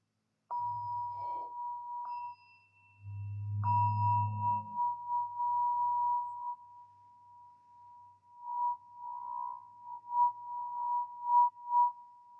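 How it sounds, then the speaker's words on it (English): A Tibetan singing bowl rings with a pure, sustained hum, struck again partway through, its tone lingering and gently pulsing as it slowly fades in a quiet room. "enjoying the sound of the Tibetan singing bowl as we focus on the breath"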